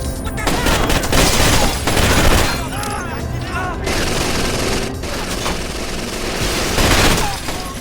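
Full-auto gunfire in the video game Rainbow Six: Vegas: dense, continuous bursts of rapid shots fill most of the stretch, loud and close, with a voice speaking over part of it.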